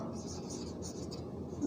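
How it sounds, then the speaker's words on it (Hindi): Pen or marker scratching across a board or paper during a physics lesson, a soft continuous scraping in short strokes, fairly quiet and close. "बस काम की बात लिख रहा हूँ"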